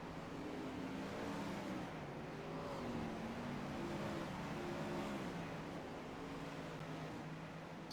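360 non-wing sprint car engines lapping the Eldora dirt oval in iRacing, several engines droning and warbling in overlapping pitch sweeps, steady and somewhat distant without talk.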